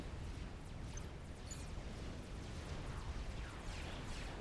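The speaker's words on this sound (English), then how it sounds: "There's a lot of explosions in that water." Explosions and artillery fire in the Supreme Commander strategy game, a dense, steady rumble of booms and blasts landing in water, loud and continuous with no clear gaps between hits and no talking.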